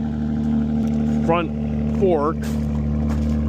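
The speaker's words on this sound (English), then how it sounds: "Gotta get my tractor out" A tractor engine runs with a steady, loud, low idling drone throughout, while someone talks over it.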